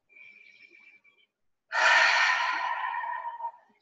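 A single slow, deep breath drawn in and let out close to the mic, long and airy after a brief quiet tone, with no talking.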